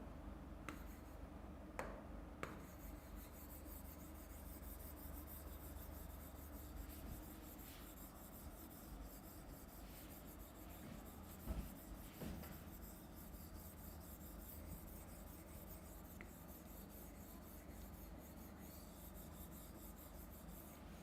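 During a maths lesson, a board is wiped clean with a faint, continuous dry rubbing and scraping that runs on and on, broken only by a few tiny taps.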